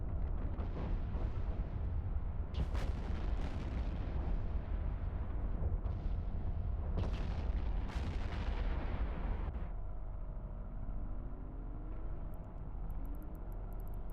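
Ships blowing up in the space game EVE Online, a series of heavy booming blasts and crackling bursts over a dense rumbling bed, with sharp impacts recurring before the noise thins to a lower hum.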